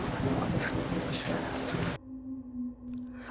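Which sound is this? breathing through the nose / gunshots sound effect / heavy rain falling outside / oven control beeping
heavy rain falling outside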